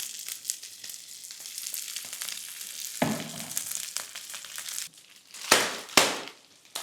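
Beans sizzle while browning in oil in a frying pan alongside onion, a steady close crackle with a few sharp louder bursts as they are stirred.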